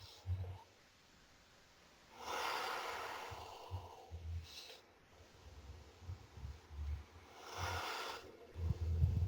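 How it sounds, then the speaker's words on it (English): Slow, deep belly breaths with full inhalations come in long airy swells, a few seconds each, close and soft against a quiet room. "So deep belly breathing,"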